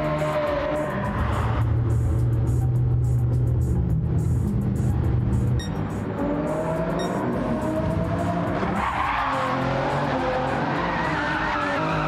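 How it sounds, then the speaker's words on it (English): A car in the racing video game Flatout drifts around corners on the Deep Forest track. Tire squeals and skids are loud and sustained over a steady engine roar, with a rising rev near the end. "We're doing some drift there around the corners."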